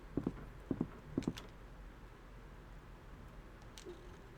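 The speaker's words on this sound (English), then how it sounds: "Okay, I heard stomping." Heavy stomping footsteps in Resident Evil, three paired thuds in a steady rhythm, then quiet ambience with a faint low tone, fairly distant and muffled, no talk.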